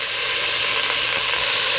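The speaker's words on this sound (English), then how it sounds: "And now I'm going to brown the spare ribs" Spare ribs browning in a hot pan for a choucroute garnie, giving a steady, loud, even sizzle and hiss close by with no talking.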